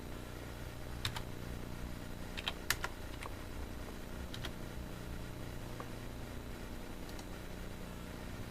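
Scattered keystrokes on a computer keyboard as answers go into maths practice software: isolated crisp taps and short clusters, close and quiet over a constant background hum, with no voices.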